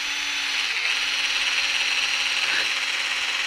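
A drill bit bores into wood in a steady, continuous whine with a high grinding hiss, close and loud throughout, with a brief dip in pitch partway through.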